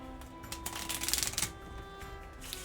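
Game cards are shuffled nearby in a run of crisp riffling bursts that peak mid-way, then settle into quieter handling, with no talking.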